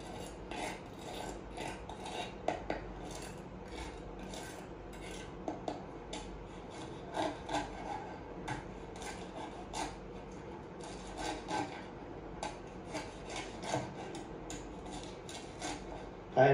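A knife slices through crispy air-fried lechon kawali, giving close, crackly scraping crunches in an irregular series of rasping strokes with sharper snaps, mostly soft and intimate.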